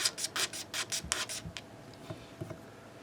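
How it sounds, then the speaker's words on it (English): Old glue being scraped off a Chapman ML3 Modern guitar body, a run of quick rough rasping strokes close up, then slower, fainter scrapes and light taps as the scraping eases off. "I might just be scraping everything right off"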